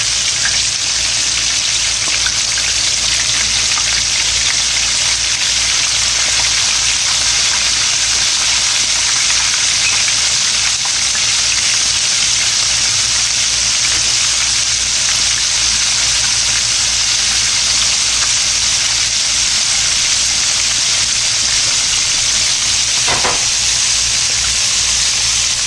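Dark-meat chicken pieces in pickle brine fry in a pan with a dense, continuous hiss and crackle, loud and close, holding steady throughout with no talk.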